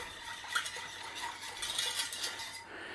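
Plum sauce being stirred into a sweet and sour pork sauce: faint scraping and light clinking of a utensil against a pan or bowl, steady and soft with no talk.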